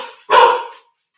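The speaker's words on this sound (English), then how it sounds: "she will just bark and bark, and it's the doggy dementia" An elderly three-legged lurcher with dementia gives a single loud, close bark that lasts about half a second, following a brief lower-level sound and followed by silence.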